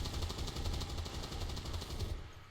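Rapid automatic gunfire in the video game XCOM 2 as a turret is shot, a fast steady burst of shots lasting about two seconds before cutting off.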